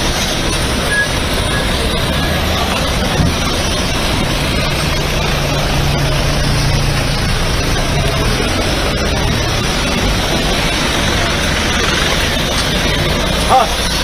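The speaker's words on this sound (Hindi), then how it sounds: "एक गाड़ी ये निकली है" A single car from a convoy drives off on a hill road in Meghalaya, its engine drone holding steady and fairly loud throughout, with faint background noise around it.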